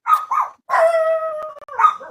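Dogs bark and then let out a long, sustained howl that wavers and fades, followed by another bark, all close and fairly loud with no talking.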